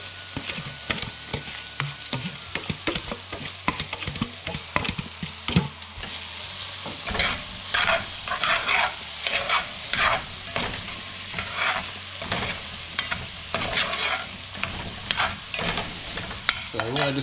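Garlic sizzles and crackles in a deglazed pot while it cooks for shrimp and grits. A utensil stirs it in repeated scraping strokes that rise above a steady hiss, and no one speaks.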